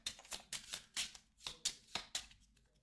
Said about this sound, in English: I'm going to shuffle these up.